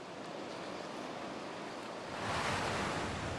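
Sloshing water washing over a flooded ship deck in a building game, a steady surf-like rush that swells louder toward the end, no talking.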